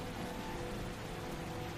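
Steady rain pours as a dense, even hiss of drops, played as an ambient backdrop for a tabletop Pathfinder session, soft and unbroken throughout.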